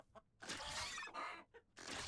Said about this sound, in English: There's a chicken. Oh my goodness. Coming for me.